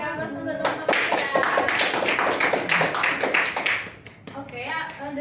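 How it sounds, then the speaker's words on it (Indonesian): Classroom of children clapping for their classmates, a lively burst of applause lasting several seconds with a voice talking before and after it. "Beri aplaus untuk teman-teman ya."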